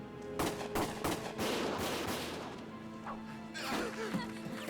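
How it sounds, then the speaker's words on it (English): Gunfire from the video game Valkyria Chronicles: rapid bursts of shots and cracking impacts mixed with battle noise, fairly faint overall, with no clear speech over it. "Gunfire!"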